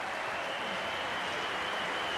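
A packed snooker arena crowd applauds loudly and continuously at the final of the German Masters, a dense, steady roar of clapping with no breaks.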